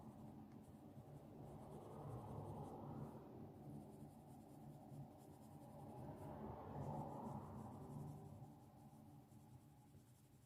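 A colouring pencil scratching across paper in soft, continuous strokes, close up and quiet, swelling and easing in rhythm with no talking.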